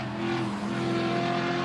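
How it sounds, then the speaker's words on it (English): A Maserati GT4 race car roars past on the Most circuit during qualifying, a loud, steady engine drone with strong harmonic tones that rises slightly in pitch as it passes near the paddock. "Maserati engine sounding absolutely fabulous around the back part, going past the rear of the paddock there"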